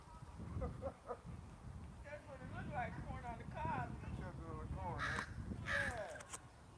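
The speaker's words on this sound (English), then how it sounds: "There's a whole fucking gang of crows right behind me." A flock of crows gathered close by, cawing repeatedly in harsh, overlapping calls that rise and fall, while a person talks over them.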